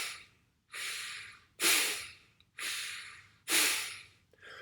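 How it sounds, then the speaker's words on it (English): Forceful rhythmic exhales through the nose in bellows or fire breathing, five loud sharp puffs at a steady pace, each followed by a quieter inhale, close up with no talk. "So it's a bellows breath or fire breath, where you're bringing your belly button in towards your spine on the exhale"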